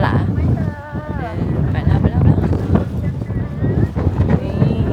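Strong gusty wind at Uminonakamichi Seaside Park in Fukuoka, Japan, buffets the microphone in loud, rumbling surges while a person talks over it, with a few high whistling calls in between.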